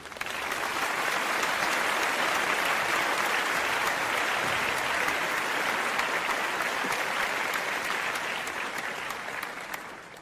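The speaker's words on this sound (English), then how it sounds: "we give a round of applause" Sustained applause from a large crowd, steady and loud throughout, fading slightly at the very end.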